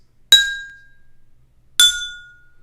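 An empty drinking glass is tapped twice, each strike a bright ringing clink that decays slowly, about one and a half seconds apart, alone and close.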